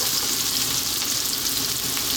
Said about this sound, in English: at this point we're now going to add in our chopped garlic